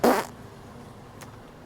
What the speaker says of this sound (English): so she farted on me